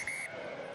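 Referee's whistle at a Northampton versus Saracens rugby match, a single bright sustained blast lasting about a quarter second, loud over steady crowd and stadium noise.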